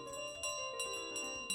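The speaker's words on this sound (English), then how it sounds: "Hope you guys like the sound of bells, by the way." Bells chiming in Untitled Goose Game, repeated bright strikes about every 0.4 seconds over a sustained ringing tone, fairly faint, with no talking.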